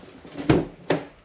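Door of a Dodge Ram truck opening: two short knocks or clunks, fairly close, the second a little sharper, over quiet background.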